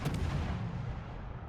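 A heavy cannon blast from a naval gun in a warship video game fires at the start, then a broad rumbling boom slowly fades.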